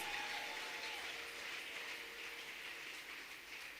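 A church congregation applauds, a sustained wash of clapping that holds fairly even throughout, heard from a distance and rather faint, with no one speaking over it.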